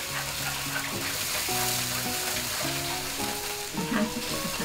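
Honey, water and dark soy sauce simmer down to a thick glaze for honey pork ribs, giving a steady sizzling hiss throughout, with a stepping background melody playing over it.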